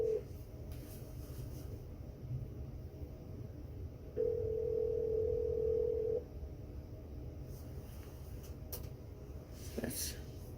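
An outgoing office phone call to a cell phone rings back in the handset, a long steady tone bursting out once in the middle, set among faint clicks and low background hum, with no talking.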